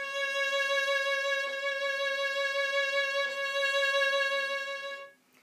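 A violin sustains a C sharp with finger vibrato, the pitch wavering gently and evenly throughout a long bowed tone. Close, bright and moderately loud with small bow changes, fading out at the end.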